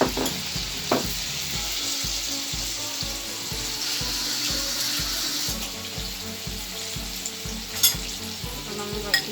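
Banana pitha fries in hot oil, a loud dense crackling sizzle that bubbles continuously up close, with a few sharper spatters and pops along the way.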